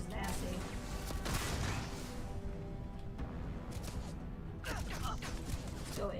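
Rapid gunfire from a Star Shard pistol in the science-fiction game Starfield, loud continuous bursts and mechanical clatter filling the scene, with a lull mid-way before shooting resumes.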